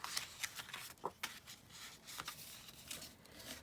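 Paper or card being folded by hand into a pocket, a quiet run of crisp rustles and creases with short sharp crackles, close and soft, with no talking.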